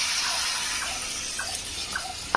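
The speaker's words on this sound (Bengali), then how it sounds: "এবার জল দেবো এখানে।" Water poured into a thick curry of raw jackfruit and chickpeas while cooking, a steady splashing wash with a few faint clinks, continuous and close, no talking.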